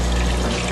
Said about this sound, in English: The filter pump is higher than the level of the tank to create a waterfall effect to break the surface tension of the water